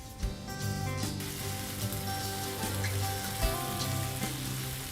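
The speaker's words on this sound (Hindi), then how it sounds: "सिजल होना शुरू हो गया है पैन" Chopped tomatoes and bell peppers sizzle steadily in a pan after wine is added and reduced, a constant crackling fry with small pops, close and alone.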